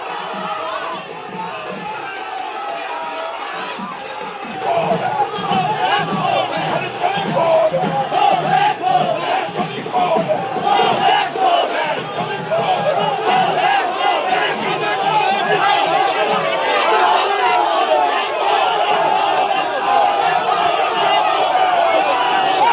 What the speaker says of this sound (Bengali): গো ব্যাক স্লোগান তৃণমূলের।